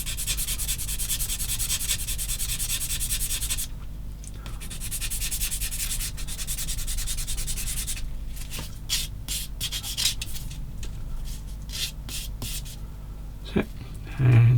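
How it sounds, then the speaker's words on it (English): A part for a 1/16 scale Takom M10 Achilles model tank is sanded by hand with a soft sanding pad. Continuous close rubbing and scratching runs for several seconds, then breaks into shorter strokes with pauses. "And this side, just get a sand with a soft bit."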